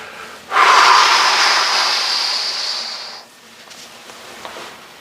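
A long, loud exhale through the nose and mouth during a guided stretching exercise, close and breathy, lasting nearly three seconds before fading into quiet room tone, with no talk.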